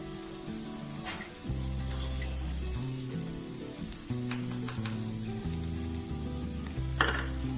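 Sliced onions sauté in a pan with turmeric and coriander powder, giving a faint, even sizzle with occasional clinks and scrapes of stirring beneath a background of music.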